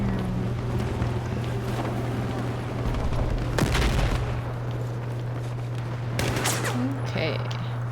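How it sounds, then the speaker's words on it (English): Gunfire from rooftops in a multiplayer shooter, with a couple of sharp bursts of shots over a steady low engine hum and ambient game noise. "we're getting shot at from the roofs"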